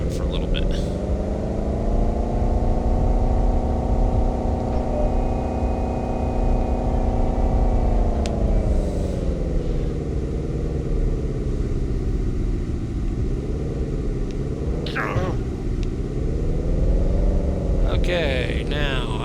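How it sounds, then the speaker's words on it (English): A car driving on a road in a video game, its engine holding a steady droning hum with slow rises and dips in pitch as it cruises, with a few faint clicks and interface blips over the top. "Let's pretend to drive on the road for a little bit."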